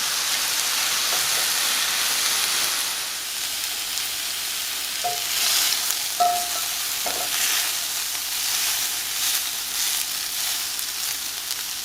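Pork for tacos árabe sizzles and fries in a pan, a steady close hiss running throughout with a few brief clinks and scrapes in the middle.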